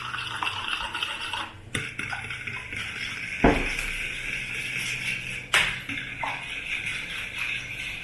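Jamaican rum Christmas cake batter is stirred in a bowl, with soft scraping and sloshing broken by a few sharp clinks and knocks of utensils against the dish.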